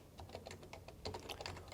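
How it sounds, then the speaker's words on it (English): Close, rapid typing on an HHKB Professional Hybrid keyboard with Topre switches, a steady stream of soft, muffled keystrokes with a few louder thocks, no voices. "let you guys kind of hear what it sounds like when typing"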